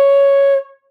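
A single sustained flute note C, clear and steady, held for about half a second before fading out cleanly.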